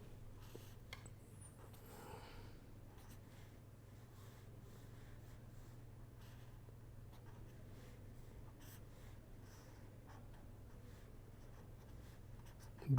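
Pen writing on paper during a structural design calculation, a soft, steady scratching that runs quietly on under a low constant hum, with no speech.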